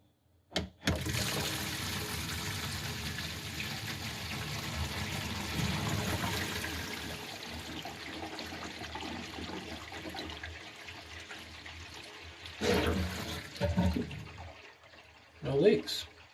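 Water running and gurgling down a newly installed bathroom drain, a steady rushing flow that tapers off, followed by a few brief splashes and trickles near the end.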